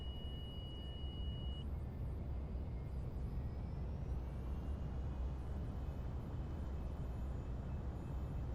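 Jet thrust reversers on a GLJ 25 business jet in a flight simulator roar as a steady, broad rumble throughout the landing roll, with a brief cockpit beep tone near the start and no talking.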